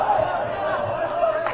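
Roosevelt home crowd at a boys basketball game jeering a struggling free-throw shooter, a loud sustained mass of voices in a gym, steady throughout the brief moment.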